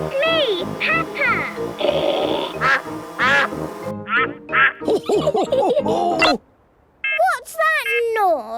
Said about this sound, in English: Here is Mrs. Duck.